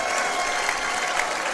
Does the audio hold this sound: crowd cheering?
yes